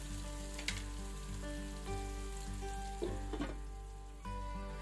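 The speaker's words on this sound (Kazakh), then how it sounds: "Пияз бен сәбізді жақсылап қызарғанша қуырып аламыз." Onions and carrots frying in a little oil in a pot for a noodle soup give a steady close sizzle, with a couple of brief stirring clatters partway through and a faint tonal hum underneath.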